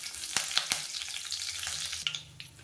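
Curry leaves fry in hot peanut oil in a pan for pepper chicken, a steady loud sizzle broken by several sharp crackles and pops, close up with no talking.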